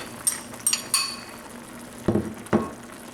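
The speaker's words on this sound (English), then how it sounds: "I'm going to go ahead and add my potato to it now" Diced potato is tipped into a pot of browning beef, with a few light metallic clinks of utensils on the pot followed by two duller thuds as the pieces land.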